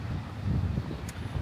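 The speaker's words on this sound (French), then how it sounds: "Il y a pas mal de vent, j'espère que vous allez pouvoir m'entendre." Wind blows across a beach and buffets the microphone, producing a low, rough rumble that swells and fades unevenly throughout.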